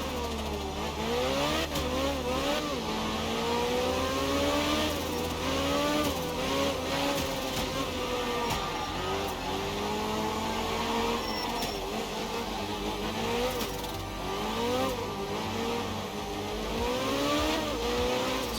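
A rally car in the Art of Rally video game revs hard and continuously, its engine pitch rising and falling rapidly through gear changes and corners, steady and fairly loud with no talk.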